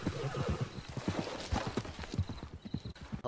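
A horse in a video game whinnies amid a rapid run of clip-clopping hooves, the neigh rising over the rhythmic footfalls at close range.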